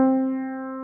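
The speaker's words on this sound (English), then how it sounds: "This is the sound of a middle C." A single middle C note on a keyboard rings out clearly and steadily, holding a pure middle-range pitch that slowly fades a little.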